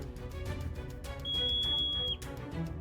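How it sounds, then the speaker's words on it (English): A high, thin whistle of air rushing through a diving eagle's feathers over Himalayan peaks, a sustained pure tone lasting about a second over a soft, fluttering background of rushing air. "The air whistles through the eagle's feathers"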